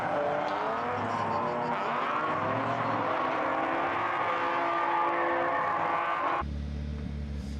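A BMW E46 M3 drift car at a drifting competition in Riga holds a loud, sustained engine howl with shifting pitch and tire noise, continuous throughout before an abrupt change near the end.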